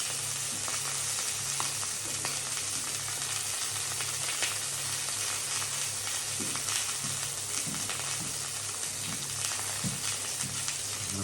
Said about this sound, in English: Turn over the sausages. My pan is just getting a little bit hot